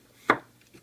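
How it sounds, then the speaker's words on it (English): A single sharp knife chop through a potato half on a cutting board while preparing oven fries, one crisp close impact followed by a faint softer tap. "Then I'll cut each one of the halves in half again."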